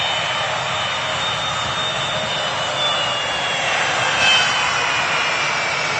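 A jet airliner's engines roar at Manchester Airport as a steady, loud, broadband rush that swells slightly near the end, with no voices.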